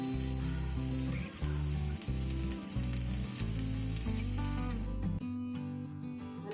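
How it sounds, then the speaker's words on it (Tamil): A gram flour dosa fries in oil on a pan, giving off a steady hiss and sizzle under loud background music that plays continuously. "இன்னும் கொஞ்சம் எண்ணெய் ஊற்றிக்கலாம்"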